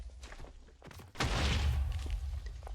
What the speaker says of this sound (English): He's shooting fireballs at us.